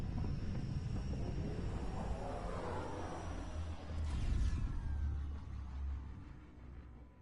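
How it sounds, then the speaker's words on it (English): A spacecraft descent engine in the video game Mass Effect Andromeda gives off a steady, deep rumbling roar with a whooshing swell midway, then slowly fades, with no talking. "Descent engine engaged."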